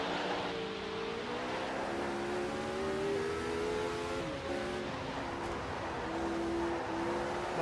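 A 1983 Formula 1 turbo race car in Automobilista 2, in South African Grand Prix qualifying, drones with a steady, moderately loud engine whine that climbs and dips as it shifts gears, with no talk.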